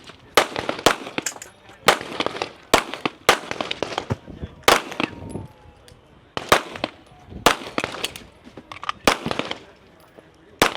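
Rifle shots at a shooting competition crack out in a rapid, uneven string of sharp reports, some paired closely, with targets about 150 yards out and faint background voices between the blasts.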